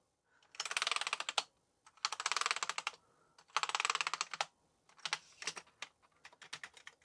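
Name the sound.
typing on a repaired Amiga 600 keyboard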